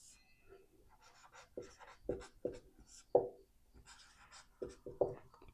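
Chalk tapping and scraping on a classroom board during a Class 10 science lesson on Ohm's law and electrical energy, coming in short irregular strokes with a few sharper taps, close and fairly quiet, with no voice.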